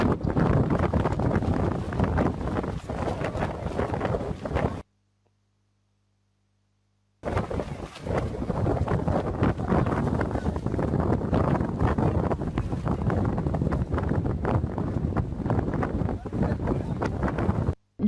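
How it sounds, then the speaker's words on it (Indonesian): Very strong wind buffeting a tent, a loud roaring rush with flapping fabric noise, cut by a few seconds of silence before the gusting resumes just as hard. "Dapat kita saksikan bersama, tendanya ini tertiup angin yang sangat kencang"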